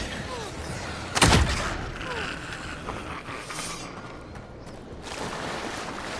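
A gunshot fired in the fantasy action game Avowed cracks out once, sharp and loud, then fades into a lingering rumble over quiet ambient background.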